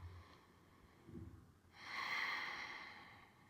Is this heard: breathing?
yes